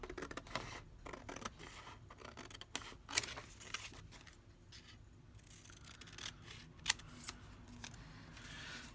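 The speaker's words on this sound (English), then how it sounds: "to cut out one of the tag shapes." Scissors snip steadily through paper, cutting out a tag shape for a handmade accordion envelope journal, with quick irregular cuts and paper rustling close by over several seconds; no talking.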